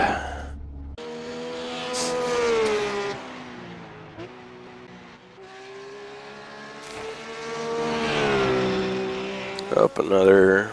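Ruf GT3 race car in iRacing lapping Lime Rock, its engine rising and falling through gear changes at close range, with a voice talking over it for much of the stretch.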